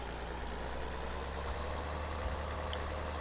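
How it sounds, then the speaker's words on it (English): A New Holland tractor engine in Farming Simulator 2013 idles steadily with a low, constant rumble and a broad hum, close and even throughout with no talking. "this particular tractor I'm using, the New Holland"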